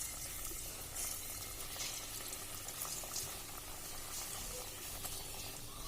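Chana dal pakoda batter sizzles and bubbles in hot oil, a steady, fairly quiet crackling fry that continues evenly throughout with no talking.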